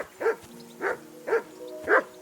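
A dog barks in Kingdom Come: Deliverance II, four evenly spaced barks at close range over a quiet background, with no talking.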